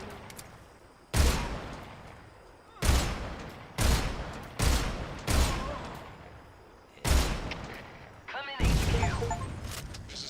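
Sniper rifle shots ring out in Metal Gear Solid Snake Eater, six loud sharp reports spaced about a second or two apart, each with a decaying echo tail, and a brief voice-like sound near the end.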